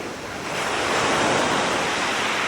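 Sea waves break and wash up a shallow sandy beach on the UK coast in winter, a loud, steady roar of surf with wind noise and no pause.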